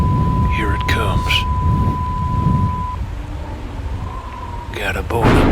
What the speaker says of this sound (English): So currently we're in the middle of a storm.